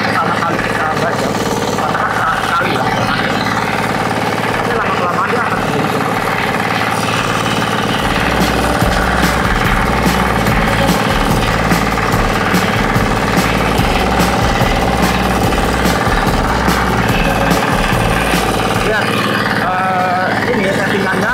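A Firman FTI2010DE mini four-wheel tractor ploughing hard, freshly broken soil in first gear, its engine chugging loud and steady throughout with rapid knocking pulses, and someone talking over it.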